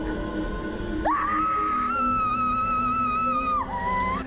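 A woman lets out a loud, sustained high-pitched scream that rises sharply, holds steady for over two seconds and then drops away, set over a dense, noisy background bed.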